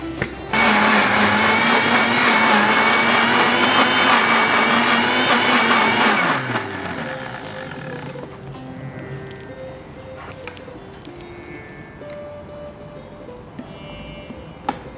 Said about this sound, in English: This is now ready for blending.